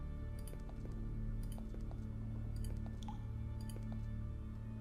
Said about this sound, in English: You wash your hands in the slimy water.